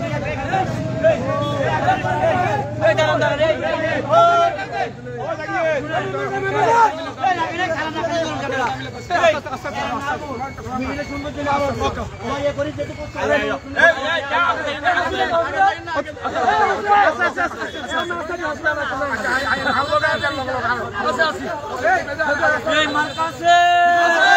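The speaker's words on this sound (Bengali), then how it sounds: "দেখতে পাচ্ছেন এখানে নেতা কর্মীরা একটা মিছিল" Party leaders and workers marching in a political election procession on Sandwip, a dense crowd of voices chattering and chanting continuously, close and loud throughout, with steady babble and no breaks.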